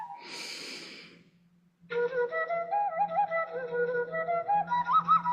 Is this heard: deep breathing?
yes